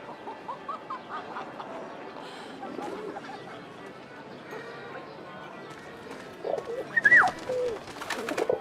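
A pigeon coos softly in the World War I game 11-11 Memories Retold, low murmuring calls under a quiet ambient bed with faint clip-clop, ending in a brief brighter chirp and some shuffling.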